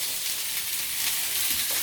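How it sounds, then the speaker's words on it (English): Rice and yellow onion frying in a pan, a soft, even hiss of sizzling that holds steady throughout the brief moment with no voices. "we fry them for about 1 or 2 minutes until they soften"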